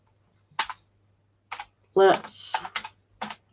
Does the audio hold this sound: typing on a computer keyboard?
yes